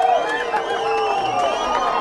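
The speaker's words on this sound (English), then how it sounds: "You can hear almost sort of a derisive cheer from the crowd here" A football crowd at a Piedmont high school game gives a sustained, derisive cheer after an offsides penalty, a dense wash of many voices carrying steadily through the stands.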